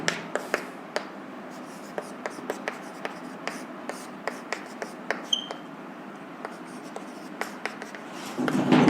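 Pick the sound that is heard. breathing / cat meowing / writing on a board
writing on a board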